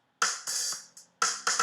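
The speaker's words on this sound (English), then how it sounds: "the crash cymbal is found up here on C#2" A crash cymbal sample played on C#2 sounds as several bright, splashy hits with short washy decays, some cut off quickly, loud and up close with nothing else heard.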